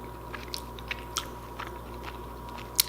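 Tender Swiss steak cooked in an Instant Pot being bitten and chewed close up, with soft, quiet chewing clicks and a few small crunchy ticks over a low room hum.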